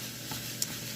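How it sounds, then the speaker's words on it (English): Ground beef sizzles in a medium pan with no oil, a steady close hiss with a brief scrape from a wooden spoon stirring it partway through. "So on a medium pan, I'm going to add my grounded beef directly."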